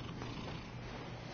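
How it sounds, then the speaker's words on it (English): Steady low purring from a house cat rubbing against a camera, close and faint, a continuous rumbling hum with no voices over it. "Oh, my cat is rubbing up against the camera here."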